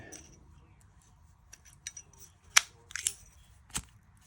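Zippo lighter being handled, its metal lid clicking and wheel flicking in several sharp, close snaps against a quiet background.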